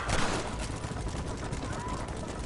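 Rapid machine gun fire from the western video game Red Dead Redemption crackles in a dense, steady burst under noisy ambient action, continuous for a couple of seconds.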